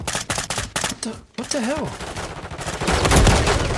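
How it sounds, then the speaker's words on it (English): Rapid bursts of automatic gunfire crack through a first-person shooter on an Xbox Series X, dense and close, with a short gap and then a heavier volley building toward the end while someone talks and exclaims over it. "There's bullets coming from this way."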